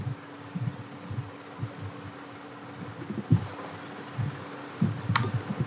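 Keys on a computer keyboard clicked while entering a tax bill into an Excel spreadsheet, faint irregular tapping bursts over a low steady hum, with a few sharper clicks.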